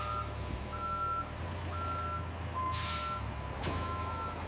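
A truck backs up at a modern rice milling factory, its reversing alarm beeping in a regular slow pattern over a rumbling engine idle, with two sharp hissing bursts of air brakes.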